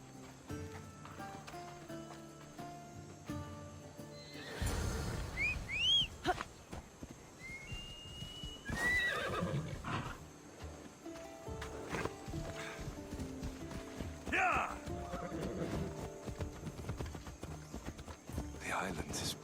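Horses clip-clop steadily at a walking pace in Assassin's Creed Odyssey, hooves thudding throughout while voices talk over them and a whistle sounds briefly.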